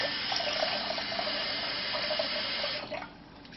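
A steady stream of tap water pours into a pot of quinoa in a kitchen, a continuous hissing splash that stops abruptly near the end, with no talking.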